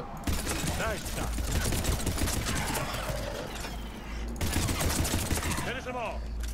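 Gunshots in Mass Effect 3, rapid sustained automatic fire with mechanical clatter, loud and close, running almost continuously with a short break midway.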